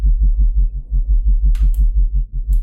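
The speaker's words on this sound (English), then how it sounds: "that's like the first sort of simple bass patch" Synthesized sub bass patch built in Native Instruments Massive, a deep pulsing low tone throbbing in a steady rapid rhythm with a couple of faint clicks.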